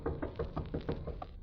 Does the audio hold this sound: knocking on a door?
yes